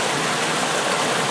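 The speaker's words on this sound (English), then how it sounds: "here I am seated in a river." Water streams steadily along a river, a loud, close, unbroken rush with no pauses and no voices.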